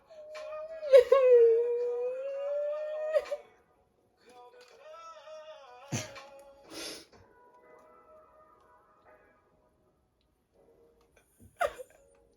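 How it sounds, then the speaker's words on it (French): A person whimpering and crying, a long wavering whine followed by broken sobs, sniffs and short sharp breaths separated by quiet gaps, close and intimate. "Tu vas vraiment pleurer là."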